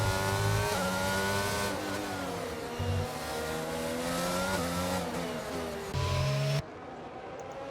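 Formula One cars in a racing video game during a Spain race replay, engines droning and shifting pitch steadily throughout, with a brief drop near the end.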